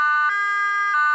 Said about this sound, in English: That European-style sound is what's known as the Hi-Low Siren at the Placer County Sheriff's Office.